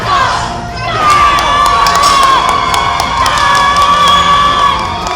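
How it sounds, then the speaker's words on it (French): A large indoor crowd at a CrossFit battle competition cheers and shouts continuously for a competitor, with loud massed voices and high-pitched screams that swell and stay strong throughout. "Ça fait franchement de bien de voir tout le monde crier son nom."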